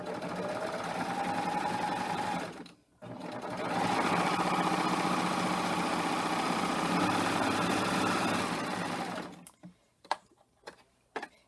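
A serger stitches a 3-thread rolled edge in two long, steady, fast-whirring runs with a brief pause between them, then slows to a few separate mechanical clicks and thumps at the end.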